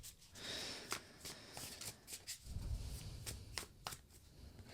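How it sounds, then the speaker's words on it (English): Tarot cards handled on a table, with a quiet sequence of soft flicks and slaps as a card is turned over, close and faint. "Open up this Broom card"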